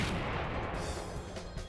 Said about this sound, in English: Little Teacher Cannon.